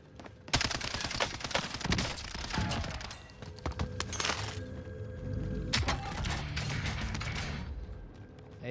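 A gun fires in the video game Warzone in dense, rapid bursts of sharp cracks broken by short pauses, with mechanical clicks and clatter between the volleys.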